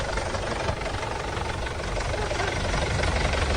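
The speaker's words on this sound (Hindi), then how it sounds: "वो खुद ट्रैक्टर चलाते हुए नजर आ रहे हैं" Salman Khan's farm tractor engine runs at a steady idle: a dense, even rumble with a knocking undertone that holds constant and loud with no breaks.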